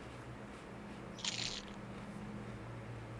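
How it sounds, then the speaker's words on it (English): A single crunchy bite while eating, a short sharp crisp snap that rises briefly above a quiet room hum, then fades back to low background noise. "That was a crazy bite sound."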